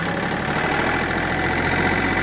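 A Kioti CK3510 compact tractor engine runs steadily at mid-range throttle in second gear, a loud, even diesel drone close by with no change in pitch and no talking.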